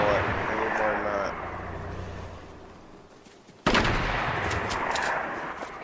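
Bursts of gunfire ring out in a video game. A muffled stretch is followed by a sudden loud crack and rapid shots, and a voice talks over it.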